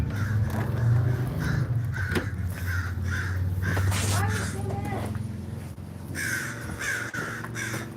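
Crows caw repeatedly in a steady series of harsh calls outdoors, mixed with a voice talking and background noise.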